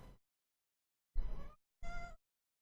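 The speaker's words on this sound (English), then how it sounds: "My cat is whining at me." A house cat whining with one short cry followed by two longer, tonal meows, close to the mic in a quiet room.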